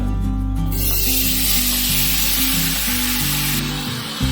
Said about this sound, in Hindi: पैन में हम थोड़ा सा ऑयल डालेंगे, अब इसमें हम कॉर्न्स डालेंगे।